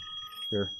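A mobile phone ringtone sounds as a steady electronic tone close by, with a brief spoken word over it near the end.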